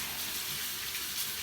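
Running tap water rinsing frozen bitter leaves or dried fish in a sink, a steady close broadband splashing stream with no talk.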